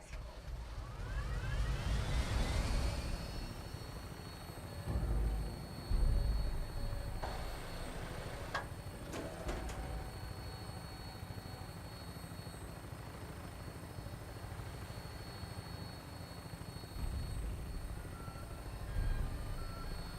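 A vertibird aircraft in the video game Fallout 4 flying with a steady rotor and engine drone, moderately loud and continuous throughout, with a few mechanical clanks and whooshes along the way.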